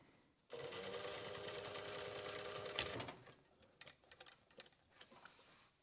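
Sewing machine top-stitching leather in a studio with a fast, even mechanical hum and needle chatter for a few seconds, then stopping and giving way to scattered quiet clicks and handling sounds.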